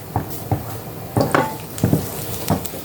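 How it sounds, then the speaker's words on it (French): Garlic browning in olive oil in a home kitchen pan, with a steady soft sizzle broken by several distinct utensil scrapes and clinks against the pan, close and alone with no voices. "Donc je fais un peu revenir mon ail dans l'huile d'olive"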